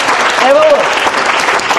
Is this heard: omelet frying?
no